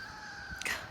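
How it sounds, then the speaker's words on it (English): A rooster crow is played for a tour group outdoors at Culp's Hill, Gettysburg, a brief, moderately faint rising call cut short within a second. "Carol is playing a rooster for us"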